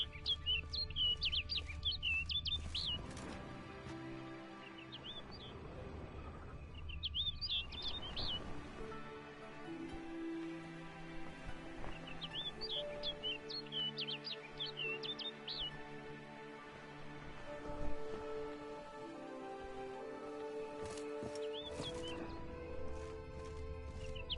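Birds chirp and tweet in short bursts within the Witcher 3 game world, recurring every few seconds over a bed of sustained orchestral music, with occasional horse-like snorts and hoof clops in the background.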